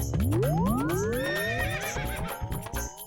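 A horse whinnies loudly and close, a long rising then wavering neigh that trails off over about three seconds, with faint hoof clatter and noise around it and no talk.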